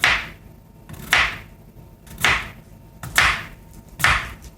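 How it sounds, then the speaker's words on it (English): Potatoes are thinly sliced with a knife on a board, five sharp chopping strokes falling about once a second, close and clear with no talk. "you're just going to want to thinly slice the potatoes"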